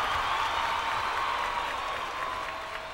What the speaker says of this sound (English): I have figured out a way to get an applause here.